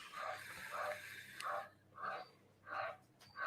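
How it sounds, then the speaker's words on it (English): A frog croaks repeatedly during a casual live stream, giving about six rhythmic, nasal calls spaced roughly half a second apart, fairly close and clear over a low background hum. "A bloody frog went off now."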